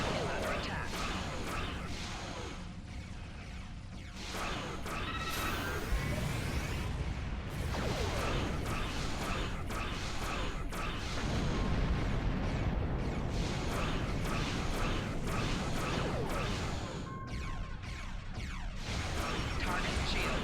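Starship weapons fire in the space combat game Star Trek Online: repeated blasts, whooshes and explosive bursts in a dense, continuous barrage, with a synthetic voice speaking over parts of it.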